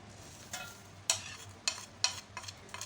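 Whole spices, bay leaf among them, fry in hot oil in a karahi for keema while a spoon scrapes and stirs, giving several soft, evenly spaced stirring scrapes over a quiet, steady sizzle.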